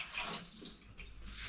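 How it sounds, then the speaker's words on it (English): Hot water pours out of a mug into a sink, a soft continuous splashing trickle with a hissy wash, faint and close, with no voices. "So we can empty the water from our mug."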